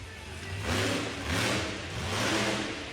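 Monster truck engine at an outdoor motorsport event revs in three surging swells as the truck launches over a jump, loud and roaring with a broad gritty tone.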